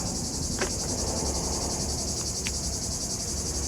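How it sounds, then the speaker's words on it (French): Cicadas buzz in a dense, continuous high-pitched drone on a sunny southern beach, steady and fairly loud throughout, with a few faint clicks over the top and no voices. "soleil du sud, la plage, les cigales"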